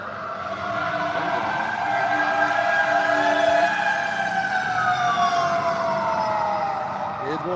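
Fire truck siren wailing loudly and continuously nearby, its pitch sweeping up and down for the whole stretch, with a low engine rumble beneath and faint background voices.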